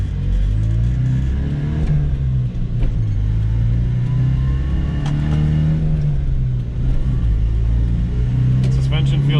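A silver manual-transmission car with a dark red interior climbs steep Seattle hills, its engine humming at a steady mid pitch and rising gently as it pulls through the gears, while someone talks over it the whole time.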